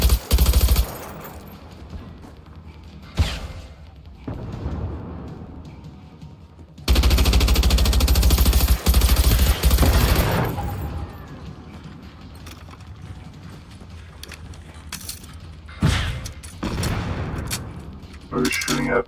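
Bursts of automatic gunfire in the video game Generation Zero: loud sustained volleys, with a long heavy burst near the middle and sharper shots scattered around it, mixed with game noise and talk.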